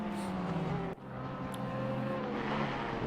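A BMW race car at full speed during a two-hour race at Imola, its engine a continuous high-pitched drone with shifting tonal bands, one brief dip around the gear change, steady and moderately distant.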